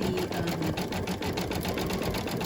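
An embroidery machine runs steadily with a rhythmic mechanical whir and faint squeaks from the hoop rubbing against its frame as it stitches a coaster, continuous and fairly quiet throughout.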